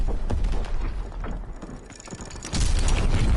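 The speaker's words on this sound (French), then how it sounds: "Il faut désamorcer cette bombe." Defusing a bomb in Call of Duty WWII makes a run of clicking, ratcheting mechanical sounds over constant game noise, and a louder rumbling burst comes in near the end.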